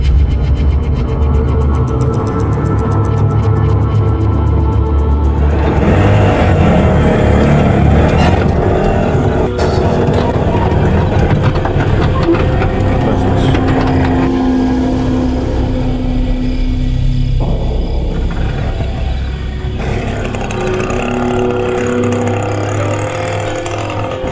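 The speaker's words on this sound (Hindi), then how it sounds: "ऑटो है ना, ऑटो में चलते हैं।" An auto rickshaw drives along with its motor running loud and close, a constant rough engine drone that rises and falls in pitch over about twenty-four seconds.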